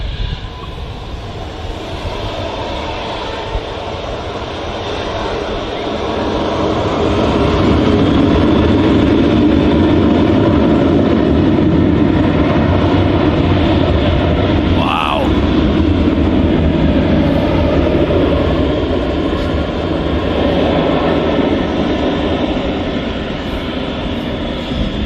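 An aircraft flying low over Manchester Airport, a loud sustained jet roar that swells and holds for many seconds with broad engine noise, while people talk nearby.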